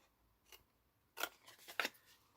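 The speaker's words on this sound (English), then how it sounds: "cut up each of the score lines, try and go through the middle of the score lines" Scissors snip through cardboard score lines to make a lotion travel-size box, giving a few sharp close cuts: one short snip, then a quick cluster of three or four crisp cuts.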